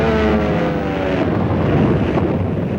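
A World War II German bomber drones loudly and continuously, its engine tones holding steady as the roar shifts slightly with wind rushing over the microphone, no voices.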